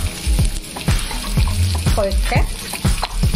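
Three thickly chopped onions frying in a pan, a steady close sizzle with clattering stirs and scrapes, under someone speaking a few words.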